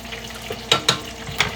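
Food deep-frying in hot oil as leftover water cooks out gives a steady low sizzle, with a few sharper crackling pops rising over it.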